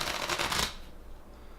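Sushi Go Party! game cards being shuffled up close, a dense riffling flutter lasting well under a second that gives way to quiet room noise.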